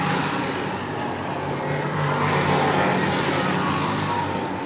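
Race cars accelerate hard off turn two at Lee USA Speedway, a dense, loud engine roar from several cars at once that swells in the middle and holds steady.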